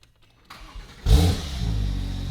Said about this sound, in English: Fernando, we got a battery. Please start the car.